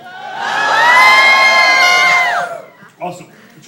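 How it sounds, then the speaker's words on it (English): A studio audience at a Universal Studios sound demonstration lets out loud, sustained yells, cheers and screams on cue for about two and a half seconds, then cuts off abruptly, followed by a brief voice. "I need yells and screams."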